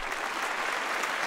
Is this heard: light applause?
yes